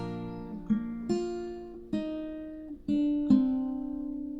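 A single guitar third string, fretted at the second fret, plucked repeatedly, six clear notes at a steady pace, each ringing and decaying before the next, with no talking.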